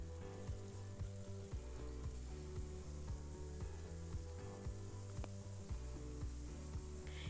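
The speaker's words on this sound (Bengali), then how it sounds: "দিয়ে ভেন্ডিটাকে কিছুক্ষণ ভাজা ভাজা করে নেব।" Cut okra with salt and turmeric fries in mustard oil with a soft, steady sizzle, mixed with occasional light scrapes and taps of stirring. The sound is quiet, with no talk.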